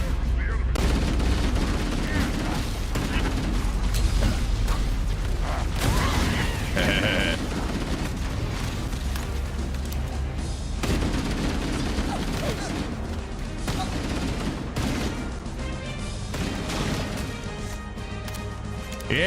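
Gunfire in a Halo video game: dense, continuous bursts of shots and crashing impacts from a shooter match run through the whole stretch, loud and busy, with a person talking over the action.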